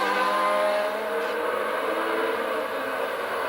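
Formula 1 race cars from the 1981 Long Beach street race roar past, a continuous high-pitched engine drone with steady intensity and no pause.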